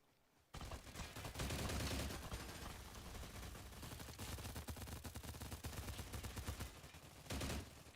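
Sustained gunfire in the video game STALCRAFT, including AK-15 fire: loud, dense rapid bursts begin abruptly after a quiet moment and continue almost without pause, with the shooting close.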